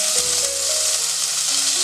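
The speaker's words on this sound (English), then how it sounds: "We have to roast these vegetables in oil for 2 to 3 minutes." Chopped vegetables, carrot, potato, French beans and green peas, roast in hot oil and give a steady, loud, close sizzle with faint tonal hums under it.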